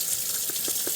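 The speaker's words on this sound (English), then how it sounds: "I'm just going to fill it up with water if I can, just to stir up the water inside of there" Tap water runs steadily into an old 1920s Depression glass atomizer bottle, a close, even hiss with a few faint gurgles as it fills.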